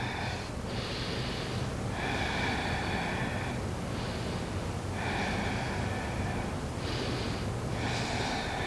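Slow, deep breathing during a yoga stretch, several long audible breaths in a steady rhythm, close and hissy over a constant background noise.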